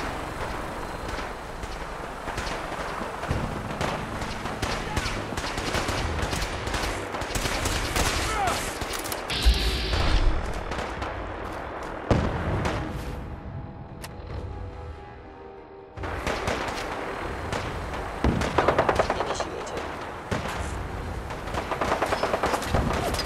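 Dense gunfire from a Fallout 4 firefight, sustained volleys and bursts rattling almost continuously, with a brief lull before the shooting resumes at full intensity, and voices faintly mixed in.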